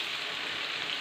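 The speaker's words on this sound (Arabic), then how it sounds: "والحوت هو كيتقلى" Fish frying in hot oil, a dense steady sizzle and crackle, close and continuous, no voices.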